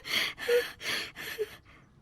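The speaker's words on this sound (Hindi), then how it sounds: "अपना गला साफ कर रहे हैं" A man loudly clears his throat several times in harsh, rasping bursts, with short pauses between each effort and no talking.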